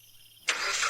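A car engine cranks and catches, a sudden burst of mid-to-high noise that continues steadily after a quiet hum, used as a story sound effect on a night highway drive.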